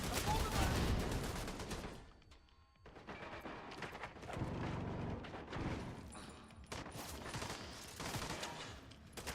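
Rapid automatic gunfire in The Division 2 video game, loud dense bursts rattling almost continuously with a brief lull, layered with other game effects and speech.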